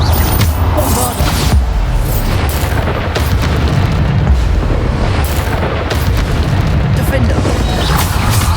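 Bombarda spell blasts in the Hogwarts Legacy video game: a dense, continuous barrage of loud booming explosions with voices heard amid the din.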